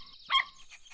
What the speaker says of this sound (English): And this is my puppy, Hero.